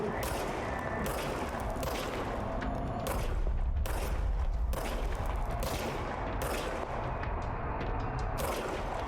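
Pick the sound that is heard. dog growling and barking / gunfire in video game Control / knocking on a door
gunfire in video game Control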